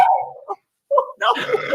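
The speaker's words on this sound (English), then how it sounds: "Even your dog's excited." A dog gives a couple of short, excited yips and barks close by at a lively Christmas Eve live event, with a burst of crowd noise and voices rising right after.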